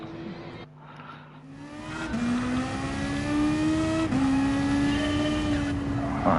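Racing car engine in a racing video game revving hard, a steady high whine that climbs in pitch, dips briefly, then climbs again, loud and continuous with no talk.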